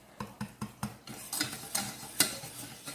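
Flour cooked in butter in a pan for vla or butter cream filling is stirred steadily, the utensil scraping and knocking in a regular rhythm of close, distinct strokes with a faint sizzle beneath.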